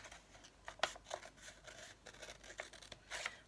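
Scissors snipping through fabric while cutting a sewing project, a series of quiet, close crisp cuts with faint rustling between them.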